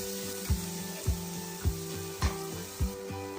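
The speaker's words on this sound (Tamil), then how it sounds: "பொடி பொடியை நறுக்கியா காயோடு சேர்த்து எல்லாத்தையும் நல்லா வதக்கிக்கலாம்." Chopped carrot and capsicum sizzle in a pan, with a low steady frying crackle broken by about six evenly spaced knocks of a spatula stirring the vegetables.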